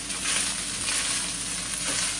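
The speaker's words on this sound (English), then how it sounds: "fry the egg and then throw in the rice" Egg frying in a hot pan for egg fried rice, a continuous close sizzle with bursts of crackling as it is stirred, loud and steady, no talking.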